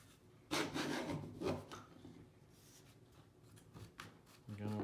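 A woodworking clamp is cranked tight on a wood glue-up, giving dry rasping, rubbing bursts of wood and metal friction in uneven strokes, quiet and close.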